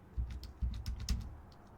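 Quick keystrokes on a computer keyboard, a short burst of about half a dozen close, light clicks in an uneven rhythm.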